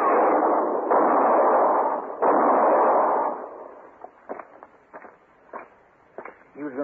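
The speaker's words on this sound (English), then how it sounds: "Shoot Mr. Hinkle" Gunshots in a Western radio drama, two loud close blasts in quick succession followed by a third, then lighter scattered thuds and knocks.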